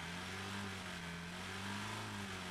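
A car engine idles in the video game Drive Beyond Horizon, a steady, even hum with a low tonal drone and no revving.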